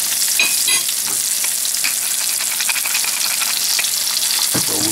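Golden chanterelle mushrooms sear in a hot pan with a steady, dense sizzle and crackle throughout, broken by a few stirring scrapes, loud and close with no talking.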